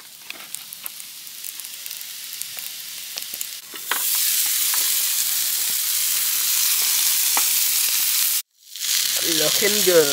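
Burgers and chips frying in a pan for dinner beside Todber Manor's Paddock Lake, a steady close sizzle that swells loud partway through after quieter crackling, with a brief cutout near the end.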